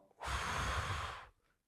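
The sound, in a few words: a deep breath taken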